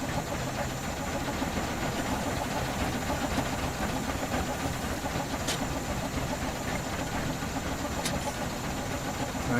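A Quarry Hunslet steam locomotive idles, heard from inside its cab: a steady close hiss and low mechanical rumble with a couple of brief sharper steam bursts, continuous and unbroken.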